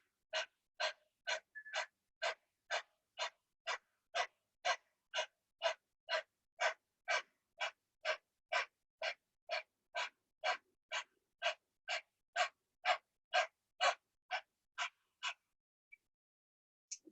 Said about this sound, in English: Keep breathing.